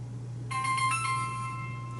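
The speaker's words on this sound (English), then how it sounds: "Hold on, we got a phone call here." An electronic ringtone from an incoming phone call starts suddenly partway through and chirps in a bright, repeating tonal pattern over a steady low hum, fairly loud and close, with no talking.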